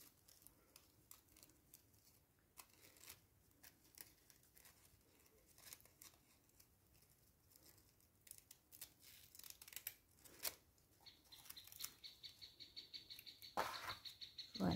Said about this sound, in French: on va essayer de découper au bord